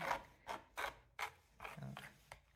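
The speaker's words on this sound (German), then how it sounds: "Noch einmal hier mit der Karte so drüber gehen. So. Ein paar Kratzer reinmachen." A card is scraped over wet acrylic paint on canvas, making six rhythmic rasping strokes, close and fairly loud, with no talking.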